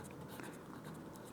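Chalk or pen scratches in short, faint strokes on a board during a Class 10 maths lesson on quadratic equations, a light scratchy rhythm over quiet room noise.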